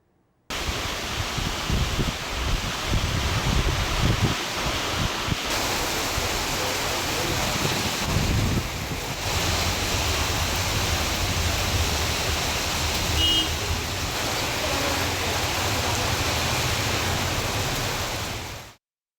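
Heavy monsoon rain pours steadily in the Nilgiris hills near Gudalur, a loud, dense, unbroken hiss filling the air close by for nearly twenty seconds with no voices.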